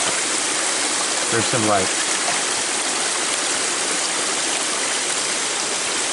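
A gold pan is swirled and washed in a stream, with the steady broadband rush of flowing water filling the whole clip and a brief spoken remark partway through.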